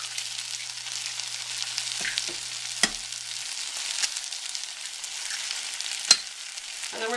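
Two large eggs fry and get scrambled with tortillas in a pan for chilaquiles, giving a steady hissing sizzle with a few sharp scrapes and taps of a utensil, close and continuous with no speech.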